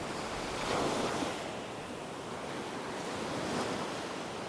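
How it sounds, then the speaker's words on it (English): Ocean surf breaks on a beach in West Palm Beach, Florida: a steady wash of waves with gentle swells in loudness, mixed with some wind buffeting the microphone, and no voices. "That's the ocean behind me."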